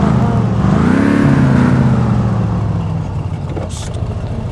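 An engine in the car game My Summer Car revs up loudly and then falls back, the pitch sweeping up and down before settling into a steadier hum with a brief clatter near the end.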